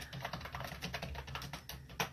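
Steady, quick clatter of typing on a computer keyboard, with close, irregular keystrokes running continuously and no voices.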